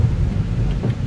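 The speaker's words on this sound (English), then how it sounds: "Like there is random thunder snow in northern Illinois." A low, steady rumble of thunder during thunder snow in northern Illinois, heavy and continuous through the brief moment with no voices.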